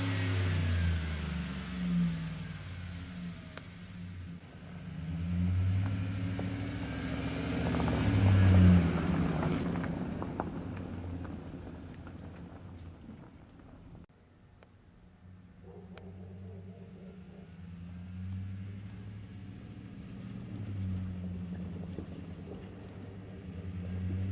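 Ford pickup truck engine running outdoors in freezing 25-degree cold, a steady low rumbling idle that swells and eases, close by, with no talking.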